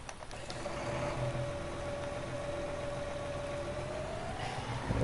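A Case tractor engine idles steadily in Farming Simulator, a constant mid-pitched drone with a faint whine, alone and unbroken until a slight rise at the very end.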